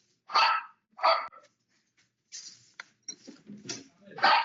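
A guard dog barks sharply at a knock on the door, two loud close barks followed by lower growling and yips, with brief bits of nearby voice mixed in.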